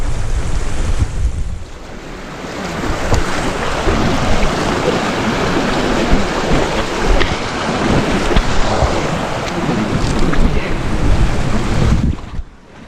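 River water rushing during a cross-country crossing in the Peak District, a steady broadband wash of flowing water with wind buffeting the microphone, loud and close throughout with no talking.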